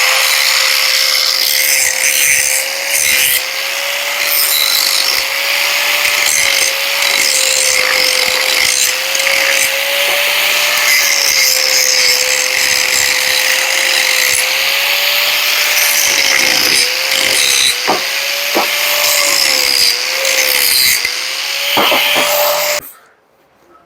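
A power tool whines steadily while polishing an adapter flange for a Ford Cargo 1721, a loud, constant grinding drone with small scraping variations that cuts off abruptly near the end.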